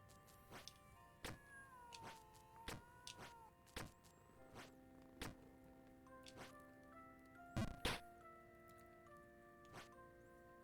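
Cats making a commotion indoors, with scattered meows, thumps and bumps from somewhere nearby, set against faint game music tones, with no talk.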